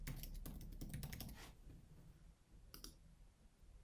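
A username is typed on a computer keyboard: a quick burst of close, crisp key clicks, then a pause and a few final taps.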